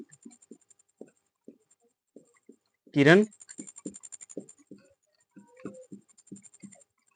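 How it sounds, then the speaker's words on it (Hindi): A marker or chalk squeaks briefly across a board during a Hindi physics lesson on lens ray diagrams, one sharp burst standing out amid the teacher's ongoing speech. "तो यहाँ लिखेंगे"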